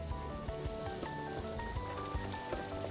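Apples frying in a little butter in a pan: a close, steady sizzle with faint crackles and pops running throughout, alone with no talk.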